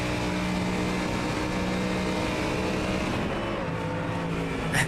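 Sim racing car at Road America, engine note held loud and close before pitch changes as it brakes hard into turn 1, with a short burst of noise at the end.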